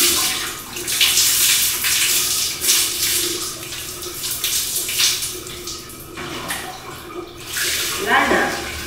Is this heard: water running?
yes